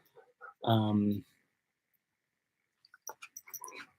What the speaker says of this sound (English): Charlie, my dog's getting a little excited